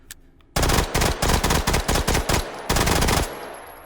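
A Mac 11 submachine gun fires in the H3VR virtual reality game: a single faint shot, then a loud run of rapid bursts, a brief gap, and one final long burst that cuts off sharply.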